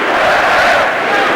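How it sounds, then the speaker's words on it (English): Boxing crowd at an Olympic bout chanting in support of Fernando Vargas, a loud, dense wall of massed voices sustained throughout at close range. "You can hear their chants."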